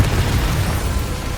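The Confringo fire-blast spell in Hogwarts Legacy explodes as a loud, dense roaring burst that fills the whole moment with a rumbling, crackling wash of sound.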